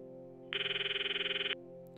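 A cell phone call rings in the Steins;Gate video game: a steady pulsing electronic tone lasts about a second against a quiet background hum, then cuts off cleanly.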